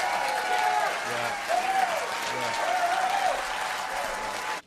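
A dense crowd boos Edwards, loud and sustained for several seconds, with rising and falling drawn-out vocal cries over a constant broadband roar that cuts off abruptly at the end, voices mixed in.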